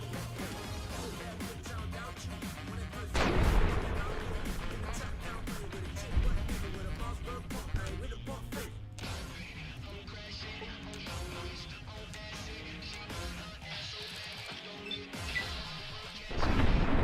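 Loud explosions and crashing impacts in the video game Fallout: New Vegas, several heavy bursts standing out over a steady bed of game music and effects.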